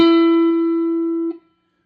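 A single sustained electric guitar note, E on the 9th fret of the 3rd string, rings clearly and alone with steady harmonics before being muted after about a second and a half.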